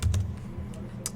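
Quick keystrokes on a computer keyboard, a few close taps in an irregular rhythm over a low background hum, with no talk.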